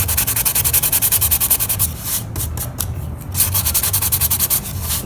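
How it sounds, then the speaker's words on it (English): Hand sanding of a steam-bent wooden iPad stand, a loud, close, steady back-and-forth rasp of sandpaper on wood in rapid rhythmic strokes with a short lighter pause midway. "What I'm going to do right now is go ahead and sand the whole thing"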